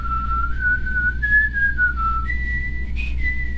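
A person whistles a wavering, sustained melody alone, imitating the recorder tune the android David plays in Alien: Covenant, with pitch sliding and stepping between held notes.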